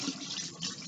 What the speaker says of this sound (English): I'm going to turn my water on